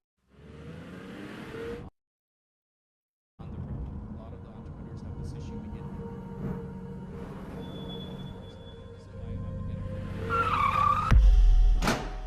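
Car tires squealing and skidding in a crash scene from a television advert, a sustained screech building to a loud impact near the end, with traffic noise throughout.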